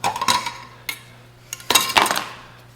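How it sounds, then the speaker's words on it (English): A can of Sherwin-Williams wiping stain is pried open, giving a few close, sharp metallic clinks and scrapes with brief pauses between them. "We're getting ready to open up our Sherwood wiping stain that we had special mixed"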